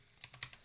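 Keys clack on a new computer keyboard, four or five quick faint taps in an uneven rhythm, close and quiet with no talk.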